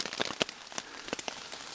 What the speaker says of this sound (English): I'm underneath it's raining, so I'm sitting underneath the tarp